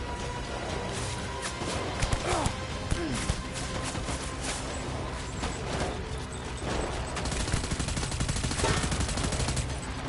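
Assault rifle fire in Death Stranding rings out in repeated sharp bursts and single cracks, loud and close, over mechanical clatter and shifting game background noise.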